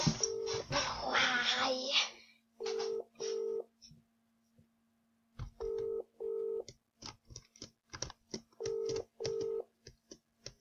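Phone call being dialed: several bursts of paired touch-tone beeps in quick groups, with a steady low hum underneath and a brief voice at the start before the tones.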